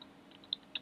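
A few soft computer-keyboard keystrokes, with two sharper clicks standing out against a quiet room.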